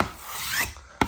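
A single close, breathy rasp as air is squeezed out from under peel-and-stick vinyl wallpaper, ending with a short sharp scrape.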